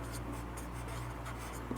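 Marker or chalk scratching across a board during a chemistry class on IUPAC naming of esters, ethers, cyanides and amines, a steady close writing scrape with a low hum beneath and no talk.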